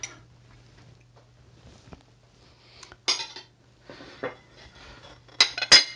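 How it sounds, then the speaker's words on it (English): Knife scraping and clinking around the inside of a pudding bowl holding a steamed pudding, a run of scattered metallic scrapes and ticks building to sharper clinks near the end, over a low steady hum. "So what we're going to do is run a knife around the outside"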